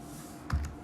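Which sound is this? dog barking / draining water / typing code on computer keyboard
typing code on computer keyboard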